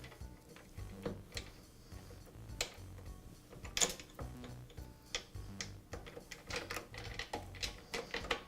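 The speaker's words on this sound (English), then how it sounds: "now I can remove the chain" A drive chain being worked off a Makita planer during a bearing repair: a run of small metallic clicks, ticks and rattles at close range, uneven in rhythm, with no talking.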